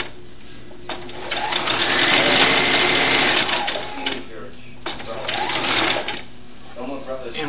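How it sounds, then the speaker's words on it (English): A serger sewing machine stitches a doll dress in two long, loud whirring runs with a short pause between, steady motor buzz up close, a person talking alongside. "And we're going to keep on sewing all the way to the other black dot."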